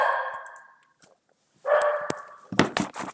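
A guard dog barks at delivery people at home, loud close barks and yips in bursts with a short silent gap, ending in a rapid flurry of barking.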